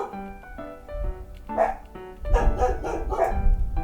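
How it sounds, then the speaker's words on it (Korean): In a quiet village, a dog barks several times in a short burst, moderately close, over soft background music. "개 짖는 소리"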